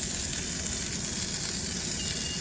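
Onions and toast sizzling on a Garland XPress commercial grill, a steady, close frying hiss with no talking.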